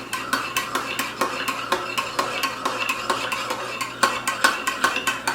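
A metal spoon clinks rhythmically against a cup while stirring piping-hot Cuban coffee to melt brown sugar, a steady run of close, bright taps with no one talking.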